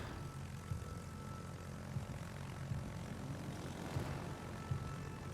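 A rocket scout plane in a naval combat video game drones along on its propeller engine, faint and even, with small periodic pulses running under the hum.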